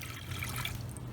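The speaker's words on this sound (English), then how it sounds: "add in 1 cup of water" A cup of water is poured into a small saucepan, a soft, continuous trickling splash heard close and fairly quiet for about a second.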